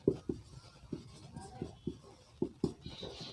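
Chalk or marker taps and scratches on a board in short, irregular strokes, soft and close, while a teacher speaks quietly in the background.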